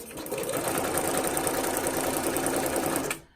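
A sewing machine stitches fabric in a steady, fast mechanical whir with rapid needle ticks, close and continuous for about three seconds before stopping abruptly.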